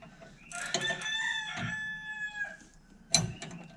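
Wild fighting chickens crowing at a house, several long harmonic cock-a-doodle-doo calls overlapping near and loud, with a final sharp crow starting another call.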